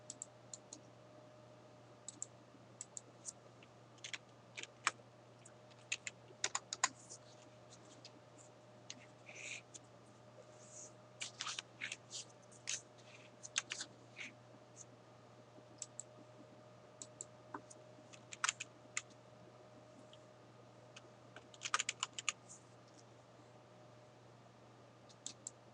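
Quiet, scattered clicks and taps of typing on a computer keyboard, entering text into a text box, sparse and irregular over a steady low background hum, with no talking.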